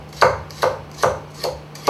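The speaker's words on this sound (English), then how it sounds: "So I'm just going to slice up the stalk so I can start making my compote." A knife chops rhubarb stalks on a cutting board in five crisp, evenly spaced strokes, close and clear over a faint steady hum.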